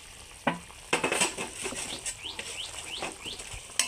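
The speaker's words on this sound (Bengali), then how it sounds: "এবার লঙ্কাগুলোকে আমি চটকিয়ে দেবো, একটা হাতা দিয়ে এভাবে চটকিয়ে দেবো" Green chillies mashed with a metal ladle, probably in a pot, heard as a string of soft wet squelches and scraping taps at an irregular rhythm, close and moderately loud.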